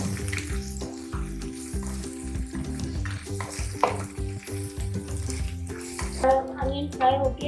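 Onions fry in two tablespoons of oil for cabbage rolls, a steady close sizzle with stirring and scraping throughout, growing brighter and crackling more toward the end.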